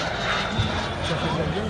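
A P-51 Mustang airplane flying past at the Aerolac Annecy air show, a steady loud engine roar and rumble heard close, continuing under a commentator's voice.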